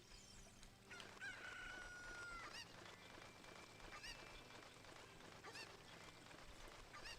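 A chicken crows in the video game Zelda: Ocarina of Time, a brief bright call rising over a busy, steady bed of game sound.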